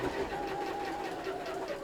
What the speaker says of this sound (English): I'm going to start stitching here all the way around like that and stop there.